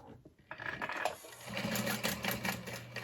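A home sewing machine top stitching through layers of a Gunther bag: a quick start followed by a steady, rapid mechanical chatter of the needle, fairly faint and close, with no talking.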